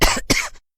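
A woman coughs twice, hard and close, choking on chili smoke filling a house; two harsh bursts with a brief gap between, then silence.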